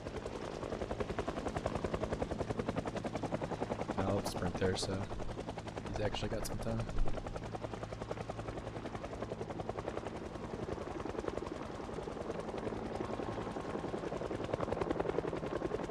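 A helicopter in the video game Project Zomboid thrums steadily overhead throughout, with gunfire crackling partway through, while someone talks over the game sound.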